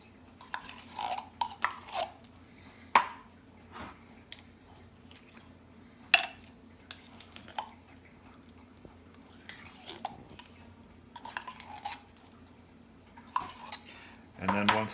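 Tomato paste is stirred into a lasagna base with a metal utensil scraping and clinking against a pot, giving scattered sharp knocks and softer scrapes at irregular intervals over a steady low background hum.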